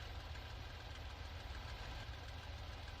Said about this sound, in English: Now that we have the engine started, warmed up, and we have completed the run-up procedure